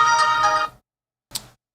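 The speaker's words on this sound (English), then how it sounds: "As I get a phone call" An incoming call's ringtone chimes on a phone during a live stream, a rich tonal burst lasting under a second, then a short second ring after a pause, with no talking.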